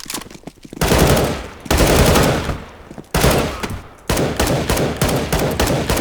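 Galil assault rifle firing in CS:GO, with loud close bursts of automatic fire separated by short pauses, followed by a run of rapid, evenly spaced single shots.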